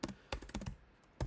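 Keys clatter on a computer keyboard in a quiet room, with short bursts of several quick strokes separated by brief pauses and a final loud tap near the end.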